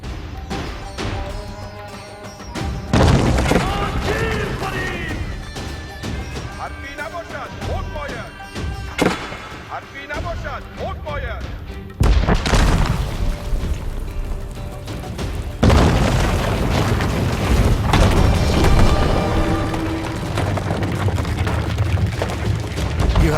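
An enemy town center is destroyed in the real-time strategy game Age of Empires IV, heard as loud, continuous booms and crashes of collapsing structures and explosions, with game music and effects layered over it throughout.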